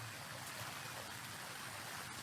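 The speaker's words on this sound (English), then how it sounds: "there's waterfalls all over the place, is what I hear" Steady rushing water from waterfalls and a small creek in a video game world, a continuous broadband wash heard alone at moderate level with no talk.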